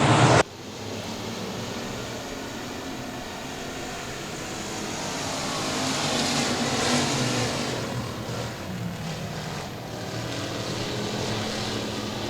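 Race cars at Boothill Speedway roaring around the track in a King of the Hill night race, a loud, continuous engine drone that swells and fades as the pack passes, after a brief sharp burst at the start.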